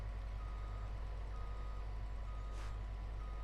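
Lorry reversing alarm in Farming Simulator 22, a steady repeating beep over a constant low engine drone, close and even throughout with no talking.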